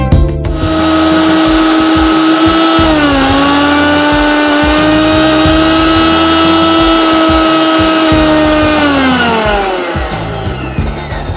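A mixer grinder blends mace, cardamom and cinnamon into a paste with a loud, steady motor whine. The pitch dips briefly early on, holds, then winds down near the end.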